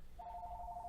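A landline house phone rings with a single steady electronic tone, clear and moderately loud against a faint background hum.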